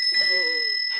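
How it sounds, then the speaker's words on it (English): A crystal bell rings once for a radio drama effect, a bright sustained high chime that hangs and slowly fades, with a voice murmuring faintly beneath it. "It's the bell, the crystal bell."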